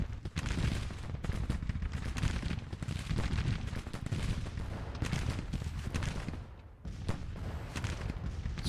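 Sustained musket and rifle fire crackles through a Civil War video game battle, volleys and scattered shots rolling continuously with dull booms mixed in, at a moderate distance.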